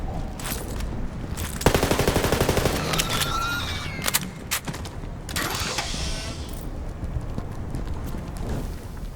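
Loud video game gunfire from Borderlands 3, rapid machine-gun bursts and sharp single shots in quick succession, dense and close throughout with brief lulls between volleys.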